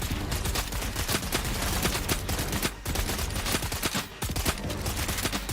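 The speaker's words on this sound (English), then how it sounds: "Shooting my cargo" Heavy, continuous automatic gunfire in Death Stranding 2: On the Beach, with rounds striking carried cargo, rapid loud bursts with brief gaps and no talking.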